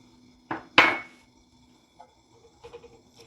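Egg yolk mixture for hollandaise being mixed in a bowl: two sharp clinks of a utensil striking the bowl, then fainter scattered taps and scrapes, close and without talking.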